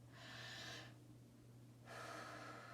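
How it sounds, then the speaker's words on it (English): A child's deep breath drawn during a calming classroom exercise: two soft, airy breath sounds, quiet and close, separated by a brief pause, with no talking. "Take a deep breath in."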